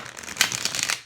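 Tarot cards are shuffled by hand in a quick burst of close papery riffles and flicks, several rapid soft slaps over about a second.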